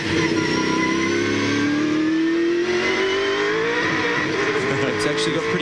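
Gibson Motorsport Ford Falcon V8 Supercar heard from on board in 2001 championship racing, the engine note climbing loud and continuous as it accelerates hard off a corner, with a commentator talking over it.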